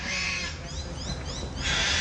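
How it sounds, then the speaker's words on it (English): Wild birds calling outdoors at a horse racing stable, a series of short rising chirps and whistles repeating over steady background noise, fairly close and moderately loud. "Can you tell these birds to shut up"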